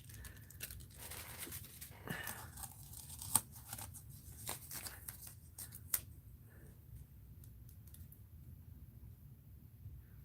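Scissors snip tape on a mixed-media art journal page, a few crisp close clicks and cuts amid paper rustling and handling noises, with no talking.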